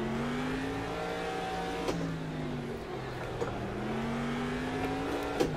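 A truck on an off-road targa stage, its engine revving hard and climbing in pitch, easing off, then climbing again, with occasional thumps and clicks over the drone.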